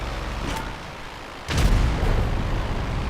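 Gunfire and heavy blasts from other players in GTA Online: a soft crack, then a loud booming burst that rolls into a sustained low rumble, with no voices.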